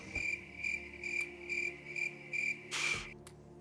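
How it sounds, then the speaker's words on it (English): Crickets chirping in a steady, even rhythm of short pulsed trills, about two per second, fairly loud and alone, ending with a brief noisier burst. "I don't know what I expected, but the crickets seemed reasonable."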